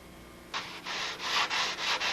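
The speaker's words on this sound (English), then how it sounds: "a little bit of sanding here before we lay out the formers" Sandpaper rubbed over a balsa-wood model aircraft fuselage, starting after a short quiet lead-in and then running as five or six steady back-and-forth strokes, close and moderately loud with no voice.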